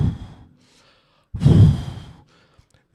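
A voice imitates Saul snorting angrily, with a short breathy huff followed by a louder, forceful snort through the nose, close and alone with silence between.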